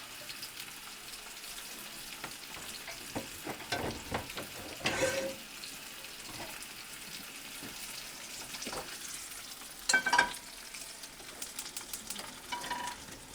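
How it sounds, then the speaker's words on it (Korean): An English breakfast frying in a large frying pan, a soft steady sizzle, quiet and close, broken by occasional louder clatters and scrapes of stirring and handling, with no talk. "그냥 큰 프라이팬에다가 그 필수 요소들을 넣고 굽는 거예요"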